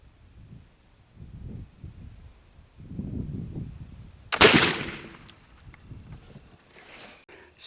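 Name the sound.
black powder rifle shots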